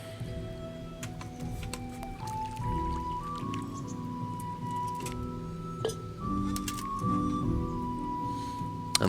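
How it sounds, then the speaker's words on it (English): Water added to an alchemy cauldron in Kingdom Come: Deliverance: a burbling pour with squishy drips and light clinks over a low background drone, with small rising tonal steps as it fills. "Add in the water."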